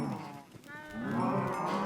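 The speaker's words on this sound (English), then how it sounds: "But we're gonna keep feeding the cows here." Cows moo in the video game Minecraft, two low drawn-out calls in close succession, loud and near, with no talk.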